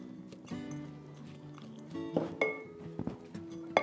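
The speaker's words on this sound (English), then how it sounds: "Mix that all up again" Butter being mixed into a batter in a bowl, with a string of clinks and scrapes of a utensil against the bowl, close and fairly quiet, sharper knocks near the end.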